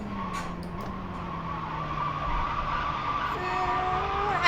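A race car drifting in the sim racing game iRacing, with the engine note holding and shifting as tyres squeal in a long slide, then a rising whine at the end, moderately loud with no talk.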